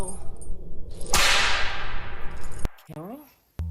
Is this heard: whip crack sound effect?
yes